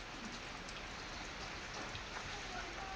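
Rain patters steadily in a village, a soft, constant hiss with scattered drops, faint and close, without voices.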